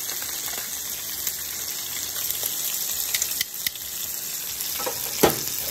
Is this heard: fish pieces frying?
yes